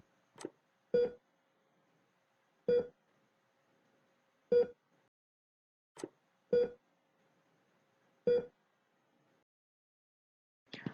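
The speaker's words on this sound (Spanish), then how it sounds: "se escucharán 5 tonos en el buzzer" A microcontroller temperature alarm's buzzer sounds a string of short, sharp beeps spaced roughly one to two seconds apart, fairly close and clear against a quiet background.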